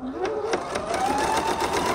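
A sewing machine stitches a straight quilting line guided by a thick ruler against the foot, its rapid, even needle strokes running steadily and close up, with a rising whir beneath them.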